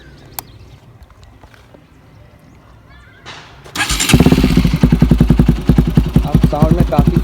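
Bajaj NS200 motorcycle with an Akrapovic exhaust, dB killer removed, idling quietly before the engine revs up loudly, with repeated throttle blips giving a deep, bassy exhaust note close by.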